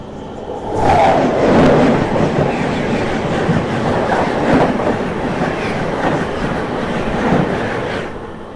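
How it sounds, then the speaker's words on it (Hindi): The Ajmer Shatabdi Express passes close by, a loud rushing roar with rhythmic clickety-clack of wheels over rail joints holding steady for several seconds before easing off. "बाकी ये निकली अपनी अजमेर शताब्दी।"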